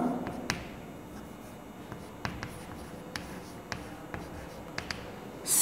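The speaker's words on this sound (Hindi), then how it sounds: "यहाँ पर मैं लिख लेता हूँ सेमीकोलन।" A semicolon written on a classroom board, heard as a few faint, sharp taps and scratches of the writing tool spaced over several seconds in a quiet room.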